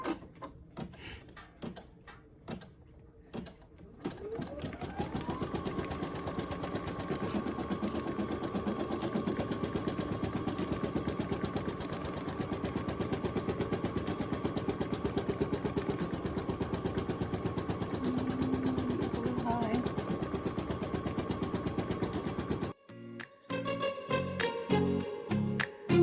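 A Brother NQ1700E embroidery machine stitches a design onto fuzzy socks, a fast steady mechanical whir and needle chatter that runs for about twenty seconds after a few clicks of setup, then stops abruptly before more clicks and handling noises.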